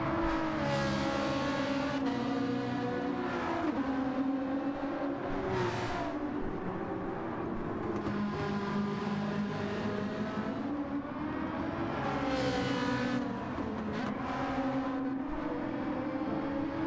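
A GR3 race car engine at Spa in Gran Turismo 7, continuous high revving with repeated gear changes and surges in pitch over a long stretch, steady and loud, with no talk.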